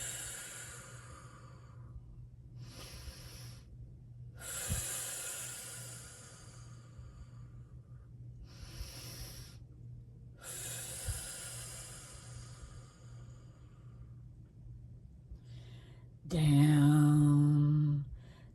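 A person takes slow, deep relaxation breaths: several long, airy inhales and exhales separated by silent pauses, close to the microphone, followed near the end by a short, low hummed vocal tone.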